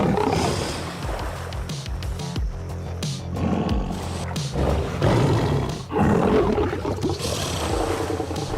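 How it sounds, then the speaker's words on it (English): Two big cats face off in a leadership fight, giving long, deep, rumbling roars and growls that swell and overlap, loud and close throughout. "sometimes a simple roar is enough to determine who the true king is"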